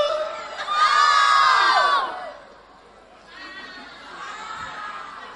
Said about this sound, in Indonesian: Ibu-ibu, gadis-gadis, perempuan-perempuan berteriak saat melihat wajah Wak Sarmun dari dekat.